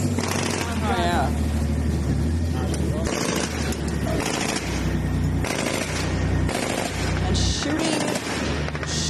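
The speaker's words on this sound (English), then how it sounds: "indiscriminately just shooting bullets at nothing" Bursts of automatic gunfire crack out from soldiers riding a tank in Gaza, mixed with engine rumble and overlapping speech.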